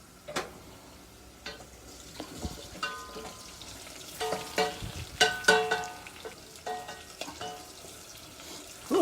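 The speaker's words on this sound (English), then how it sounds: "in a large stock pot, melt the butter over medium-high heat and add the flour" Butter and flour sizzle and crackle in a large stock pot over medium-high heat, a soft steady frying hiss with scattered pops and light clinks of stirring, fairly quiet and without talk.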